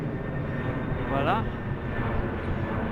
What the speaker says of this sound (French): Alors là c'est un avion qui passe